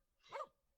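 A single short, faint bark from a dog named Nana, used as a stage play sound effect, heard alone and close.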